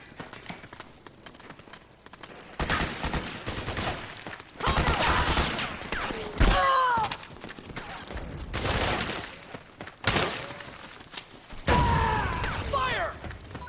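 Bursts of gunfire in the video game Metal Gear Solid 4 come in several loud volleys separated by quieter gaps, with clattering mechanical noise and voices calling out over the action.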